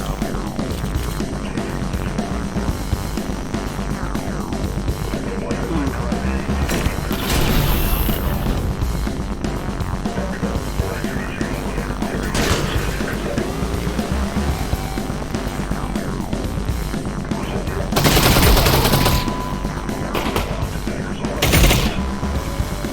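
Gunfire in the VR shooter Half-Life Alyx during a fight with Combine soldiers: loud bursts and booming blasts stand out around 7, 12, 18 and 21 seconds over a dense, busy game soundscape with no talk.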